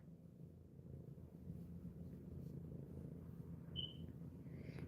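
Benny Bruno, a pet cat, purring close by as a low, steady, faint rumble, with a brief high squeak near the end and no speech.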